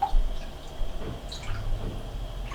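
Liquid dye bath for a synthetic wedding dress, with vinegar added as a fixative, being stirred: soft, close sloshing and dripping swirls that rise and fall in loose waves, quiet and steady with no talking.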